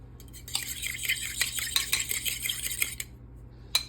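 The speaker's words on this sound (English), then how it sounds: "And then I scrambled an egg." An egg scrambled in a bowl, the utensil beating against the sides in quick, rapid clinks and scrapes for several seconds, then one last tap, with a faint steady hum underneath and no talking.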